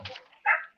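A dog gives a short, muffled whimper and then a single sharp bark, close by and otherwise alone.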